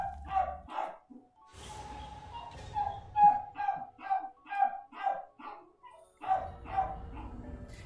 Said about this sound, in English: Dog came in, we got the dog.